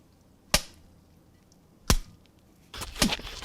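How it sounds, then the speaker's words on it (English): A mushy orange being punched as a fight-scene hit effect: three sharp, wet impacts spaced about a second apart, the last a denser double thump, each standing out alone against near silence. "The sound effect I most commonly used was one of punching a mushy orange"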